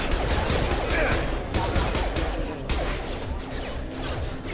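Pistol gunfire in the sci-fi shooter video game Mass Effect, a dense run of sharp cracking shots close up, mixed with impacts and game noise throughout.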